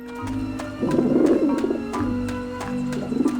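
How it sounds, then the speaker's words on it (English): Birds cooing in the adventure video game Grim Fandango, soft dove-like coos repeating over a low ambient game drone, close and clear, with faint periodic clicks. "See a bunch of birds here."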